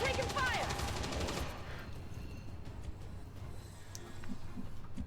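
Automatic weapon fire bursts in the turn-based strategy game Long War 2, a dense rattling volley loud at the start, then dropping to a quieter background din with scattered faint shots.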